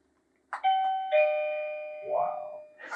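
A doorbell rings after its button is pushed, two ringing chime tones that hang and decay, followed by a brief voice reacting close by.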